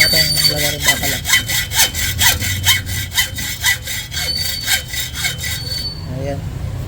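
Steady, rapid rasping strokes of a saw cutting a small steel piece for a Yamaha Sniper 155R tensioner, close and continuous for several seconds.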